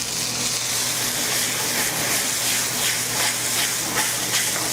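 Brandy flambéing in a pan gives a loud, steady hiss and roar with faint flickering pulses, with no speech over it.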